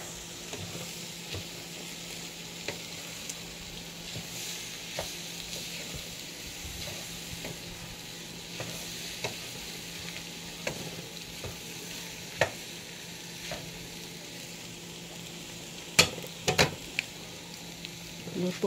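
Bitter gourd (paliya) sizzles steadily in a frying pan with occasional scraping and clinks of a stirring utensil, a continuous close crackle throughout.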